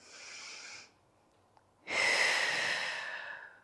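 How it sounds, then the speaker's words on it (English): A deep breath during a Pilates core workout: a steady airy exhale, a short pause, then a long, loud, close inhale, heard alone. "Deep breath in"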